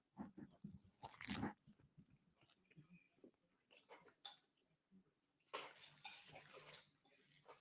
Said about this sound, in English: One crunchy bite in the microphone.